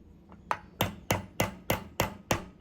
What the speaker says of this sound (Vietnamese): Anh chị em mình sẽ gõ nhẹ xuống ngay cái phần mũi của cái kềm này